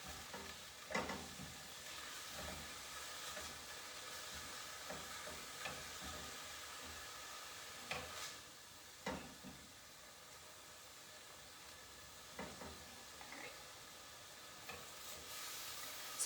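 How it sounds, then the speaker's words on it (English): Garlic cooks in a pan with a faint, steady sizzle and hiss, broken by occasional soft clicks and scrapes of stirring. "Ooh, smell that garlic cooking."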